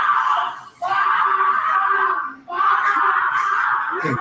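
A man screaming in a comedy show clip, loud sustained yelling in two long bursts separated by a brief catch of breath, close and raw, with no other talk.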